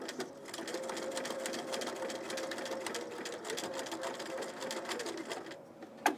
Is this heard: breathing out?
no